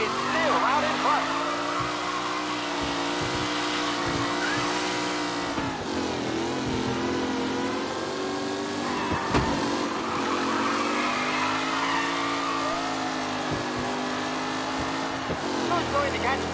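Race cars roar around a track on the final lap in Mafia Definitive Edition, engines revving and shifting in rising and falling sweeps, with tire noise and a race announcer talking over them throughout.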